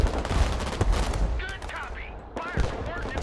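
Rapid gunfire and bursts of automatic weapons rattle through a battle in the modern real-time strategy game Broken Arrow, with dense overlapping shots, heavier thumps and a few whistling effects in between.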